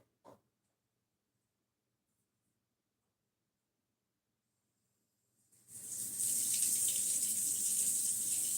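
A tap starts running into a sink to soak a knife, a steady hissing gush of water that begins after a long silence and a single brief knock, then continues strongly to the end.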